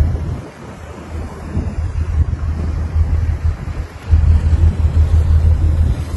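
A ferry gets under way at sea, with strong wind buffeting the microphone over a continuous low rush of waves and engine rumble that swells louder partway through.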